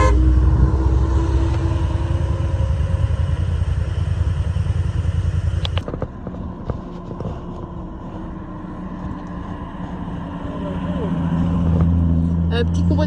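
A small convoy of BMW cars passing during a classic car event on the Col du Galibier, steady engine roar close by that fades and then swells again, with people talking throughout.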